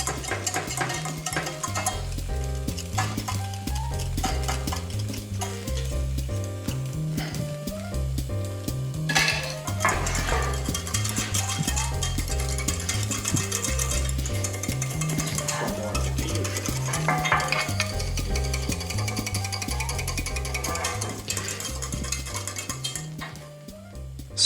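A spoon stirs a sauce with a level spoonful of mustard in a pot, giving continuous scraping and clinking strokes at a steady, even rhythm for the whole stretch, with no talking.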